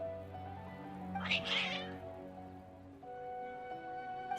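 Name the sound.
cats meowing in video game Genshin Impact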